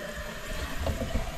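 Water poured onto thirsty, wilting plants gives a brief, soft splash and trickle over a low background hum.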